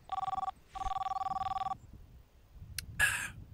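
Telephone in the video game Demolish and Build 2018 rings in two electronic bursts, the second longer, followed by a brief click and a short noisy clatter.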